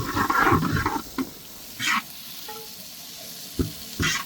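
Small and large onions sautéing in a pan for a spicy Tamil-style chicken thokku, with bursts of sizzling and stirring scrapes coming in irregular surges between quieter stretches of low frying hiss, close and clear.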